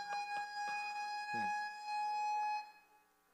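Inside a church an alarm siren sounds, a loud sustained electronic tone with layered pitches, joined briefly by low voices in the room before it cuts off near the end.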